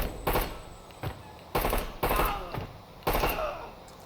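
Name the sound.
gunfire while clearing a room in video game Door Kickers 2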